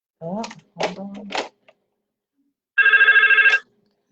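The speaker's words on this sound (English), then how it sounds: "Let me let it ring again." A telephone rings on an outgoing call through a speakerphone: one short burst of trilling, buzzy ringing, loud and close, after a few moments of people talking and a pause.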